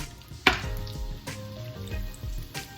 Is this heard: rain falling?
no